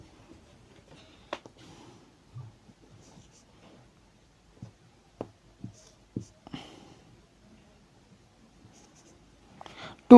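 Marker or chalk writing numbers on a board during a divisibility math lesson, heard as scattered short taps and squeaks spread across the stretch, a louder tap at the end, with no talking.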